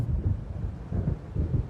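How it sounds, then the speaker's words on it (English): Low, rolling thunder of an approaching storm in the video game Alan Wake, a steady rumble that swells in several soft waves, with wind-like noise and no talk. "It seems there's a storm coming."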